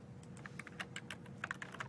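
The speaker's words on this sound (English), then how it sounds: "I keep typing my last name as the message that I want to send." Quick, irregular clicks of fingers typing on a computer keyboard, fairly faint and close by, with no voices, while a message is being entered.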